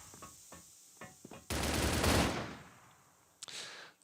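Gunfire in the competitive shooter CrossFire during a bomb-site retake at a regional finals match: a few quick sharp shots, then a loud sustained burst of automatic fire, and a brief final crack, with no talk.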